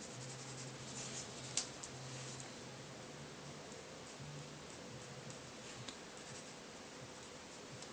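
A pencil shades dark areas of a drawing with a steady, soft scratching of graphite on paper, faint and continuous throughout, with no talking.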